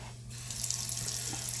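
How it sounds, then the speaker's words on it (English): Tap water runs steadily into a kitchen sink as it fills, a soft, continuous rushing hiss heard close and alone. "Get a little bit of sink of water running here. Fill it up a bit."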